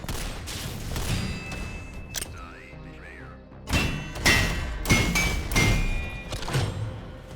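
Weapons firing in the video game Synthetik 2, a sequence of sharp, punchy shots and thuds arriving in clusters at close range, with electronic tones between bursts.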